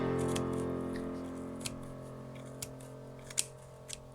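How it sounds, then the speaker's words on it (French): Scissors snipping wool yarn threads at the spine of a small notebook while making a Halloween ghost: a few faint, spaced clicks close by over a steady low hum, no talking. "il faut que je vienne couper les fils ici en bas"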